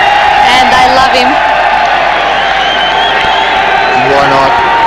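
A stadium crowd at the 1994 Pakistan v Germany World Cup hockey semi-final cheers and whoops for a player, a loud continuous roar with a commentator talking over it.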